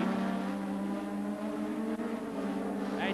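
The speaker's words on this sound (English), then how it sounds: "here are the tail-enders going through as the leaders come through into Clark Curve" Formula One cars from a 1984 Brands Hatch race stream past, a steady loud engine drone from tail-enders and leaders through Clark Curve, continuous with no pause and no voices.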